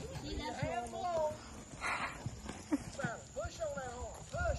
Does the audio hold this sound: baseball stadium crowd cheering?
no